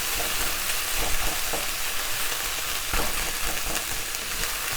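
Vegetables for a sofrito fry in a pan with a steady, close sizzle, broken now and then by soft stirring scrapes, with no talking.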